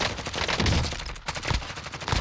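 Rapid, dense bursts of AMAX rifle fire in a shooter video game, loud and close, with one brief pause before the shots resume.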